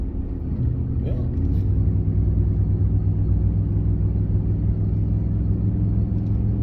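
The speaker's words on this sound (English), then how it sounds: "this guy wanted to pass me and then realized that a car was coming the other way" Cars on a two-way road heard from inside a moving vehicle, a steady low engine and road rumble with a brief rise as another car approaches and passes, no talk.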